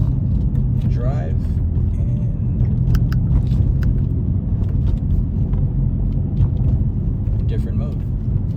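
A 2017 BMW M3 ZCP rolls slowly through a neighborhood at night, its low engine rumble and road noise steady and close from inside the cabin, with faint talk over it.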